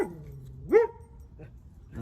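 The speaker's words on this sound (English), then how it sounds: "Brexit found something to bark about." A dog named Brexit gives one clear bark partway through, followed by a fainter yip, with a voice talking nearby before and after.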